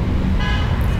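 Road traffic on a drive through Mumbai's Bandra Kurla Complex, a loud, close rumble of vehicles with a short car horn toot sounding over it in the second half.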